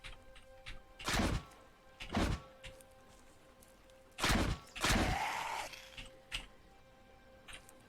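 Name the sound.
zombie banging on a vehicle in video game Cataclysm DDA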